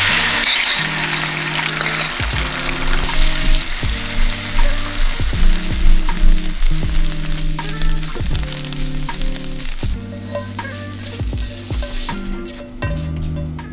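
Scrambled eggs sizzle steadily in olive oil in a pan, a loud continuous frying hiss broken by repeated scraping and stirring strokes of a utensil, with no talking.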